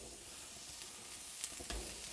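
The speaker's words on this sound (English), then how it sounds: "we're gonna start searing these patties" Burger patties of about a third of a cup each sear on a Solo Stove Steelfire griddle for birria smash burgers, giving a soft continuous hiss with a couple of faint scraping ticks and no voices.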